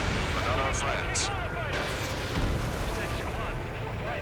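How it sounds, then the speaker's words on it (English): Howitzer artillery fire in the jet combat game Ace Combat 7, a loud, continuous rumbling barrage with no clear gaps, running under voices talking over the radio. "Howitzer."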